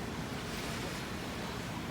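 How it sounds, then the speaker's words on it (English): Heavy rain suddenly pouring down outdoors beside a taco restaurant, a steady broadband hiss and roar with a wind-like rumble, continuous and fairly loud throughout, with no voices. "And it just started pouring."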